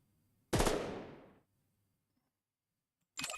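Small-gun fire in the XCOM video game: a single loud, close burst of rapid gunfire fading over about a second, then silence before another sharp burst begins.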